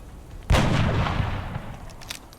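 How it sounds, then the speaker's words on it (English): A single sniper rifle shot in the turn-based strategy game XCOM Long War: one sharp loud report with a long booming tail that fades over about two seconds, with no voices. "let's try hitting this one with the sniper"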